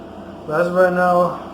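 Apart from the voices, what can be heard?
air conditioner running in the background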